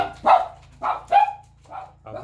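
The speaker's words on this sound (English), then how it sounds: "And my dogs are barking." Dogs barking indoors in a series of five loud, close barks spaced about half a second apart, over a low steady hum.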